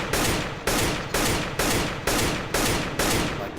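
Rifle fire from the game CS:GO rings out in eight evenly spaced shots, loud and close, each sharp crack trailing off before the next.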